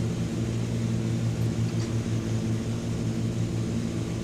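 Steady drone of a Chancellor 414 twin-engine airplane climbing in Microsoft Flight Simulator, a constant low engine hum with harmonic bands, moderately loud and unbroken, no talking.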